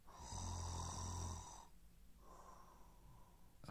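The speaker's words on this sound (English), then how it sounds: "That's a loud snore." Loud snoring from a sleeping character in the indie horror game Mom Is Not Home: one long, heavy rasping snore, a brief pause, then a second, quieter drawn-out snore, with no talk over it.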